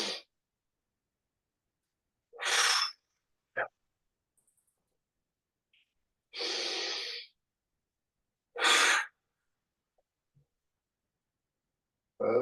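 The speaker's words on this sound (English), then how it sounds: "Take 3 intentional breaths." Three deliberate breaths during a gentle qigong self-care session, each a soft, airy inhale or exhale separated by quiet pauses, close and clear with no talking.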